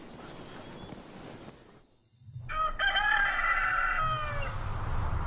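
A rooster crows once at a Moroccan nomadic Amazigh camp, a long, loud, close cock-a-doodle-doo rising after a brief hush, over steady outdoor background noise.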